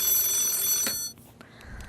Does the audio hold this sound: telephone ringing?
yes